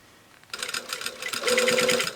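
A sewing machine stitches a dress bodice into a tube, starting after a quiet half-second and running in fast steady bursts that grow louder and more continuous toward the end, with no talking.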